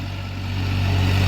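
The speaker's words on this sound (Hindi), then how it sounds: "सुपर ट्रैक्टर है न्यू हॉलैंड का, ये 50 HP का ट्रैक्टर है" New Holland 3630 50 HP tractor engine idling steadily with no load, a continuous low hum and drone that builds slightly louder over about a second, with no voices.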